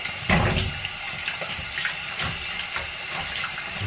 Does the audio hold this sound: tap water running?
yes